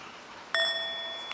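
A meditation bell given a brief half sound, one soft struck ding with a clear ringing tone that lingers and fades quietly in a hushed room.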